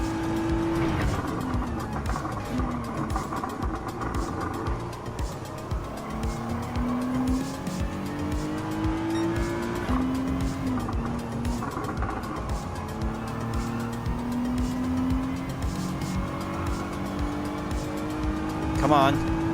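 A Nissan GT-R race car in Gran Turismo 7 during a Clubman Cup Plus race, its engine revving up and down through gear changes with repeated tire squeals through corners, loud and continuous.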